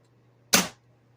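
An ASG Franchi SPAS-12 airsoft tri-shotgun fires once, a single short sharp snap heard close against near silence.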